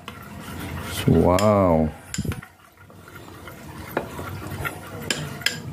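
Tartar sauce ingredients stirred in a bowl, a spoon scraping and clinking in soft repeated strokes close by, after a brief spoken remark.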